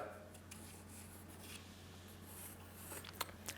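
A pencil drawing a circle on paper around a bottle cap, a soft, continuous scratching and rubbing close by with a few light taps near the end.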